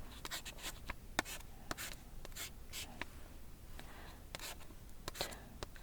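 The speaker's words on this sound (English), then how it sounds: "Some people also write in this way." Pen or pencil writing by hand in a Korean lesson: close, quiet scratchy strokes and taps in an irregular rhythm, with brief pauses between marks and no talking.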